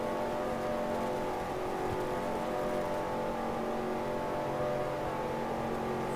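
Stock car engines drone in NASCAR Racing 2003, a steady, dense, high-revving roar from a pack of cars at speed, continuous and unbroken for several seconds, with no speech over it.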